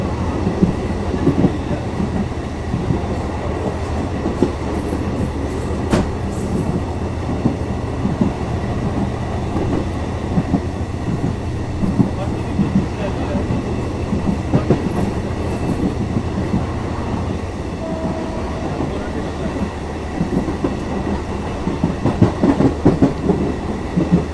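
A passenger train on the route from India to Nepal runs along the rails, giving a loud continuous rumble with rhythmic clickety-clack from the wheels and a faint squeal near the end.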